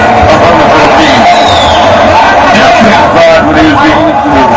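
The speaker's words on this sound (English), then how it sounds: "Whenever Manny does anything, this crowd will react" Boxing arena crowd reacting to Manny Pacquiao at the Pacquiao vs. Rios fight in Macau, a dense, loud roar of cheering and babble with scattered whoops that swells steadily and never drops to quiet.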